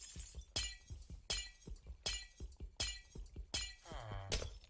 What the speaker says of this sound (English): I'm going to be breaking some glass